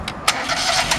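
A Mobile Inferno 2545 LP propane engine cranks and catches, a loud, close burst settling into a steady running rumble.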